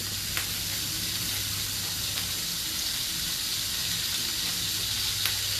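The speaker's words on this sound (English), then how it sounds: "Look at the butter melting there" Salmon sizzles in melting butter in a hot pan, a steady close frying hiss that continues evenly with no talking.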